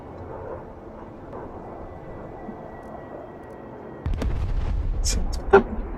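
Gunfire and artillery in the military video game Broken Arrow: a low rumble gives way to a sudden loud barrage of booming shots and sharp cracks, with one strong blast near the end.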